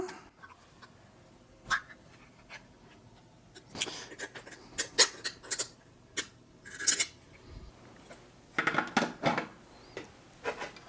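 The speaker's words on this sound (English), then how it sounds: "And we'll open up our vegetable caviar." Foil-wrapped vegetable caviar from a Kazakhstan 2019 military ration being torn and opened at close range, a run of sharp crinkles, snips and handling clicks with brief pauses, fairly faint overall.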